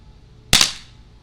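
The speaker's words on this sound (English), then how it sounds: "I'm going to move back to 30 feet and do the first shot single action" A Smith & Wesson M&P 45 CO2 pistol by Umarex fires one single-action shot: a sharp, close crack with a short fading tail, alone in a quiet setting.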